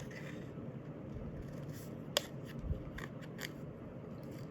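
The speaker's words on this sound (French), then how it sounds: "si vous voulez, vous pouvez encore découper" Scissors snip through paper or card while an autumn basket shape is cut out, producing a few quiet, sharp clicks against a soft, steady indoor background hiss.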